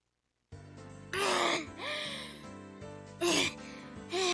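A girl in the Higurashi visual novel pants and gasps heavily after running, in short breathy bursts with voiced catches, set against a soft looping background tone.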